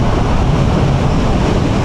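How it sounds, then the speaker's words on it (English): Strong headwind buffeting the microphone while riding an e-scooter, a loud, steady roar of wind noise filling the whole moment without a break. "there is too much wind ahead"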